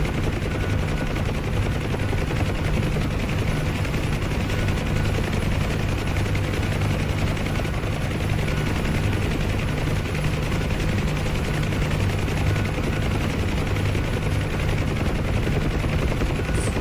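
Steady rotor drone of a UH-1H Huey helicopter in the DCS flight simulator during a hover taxi, a continuous loud engine and blade hum with no pauses or voices.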